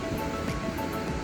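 Liddar River in Pahalgam, Kashmir, gushing past a riverside cottage, a steady broadband rush of fast water, close and continuous with no talk.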